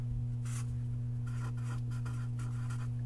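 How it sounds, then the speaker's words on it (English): Pen or marker scratching out a few handwritten strokes during an algebra lesson on factoring trinomials, short bursts of rubbing with brief pauses, close and alone. "so I should probably write that down"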